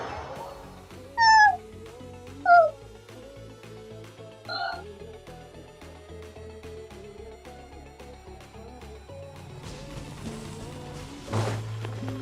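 Cat meowing inside the game Honkai Impact 3rd, three short, bright meows early on, near and clear over soft game music, followed by quieter background sound.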